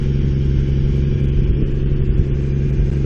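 A 1962 Ford Falcon with a straight-six engine cruising down a back road, its steady mid-pitched engine drone close and constant with small swells in revs.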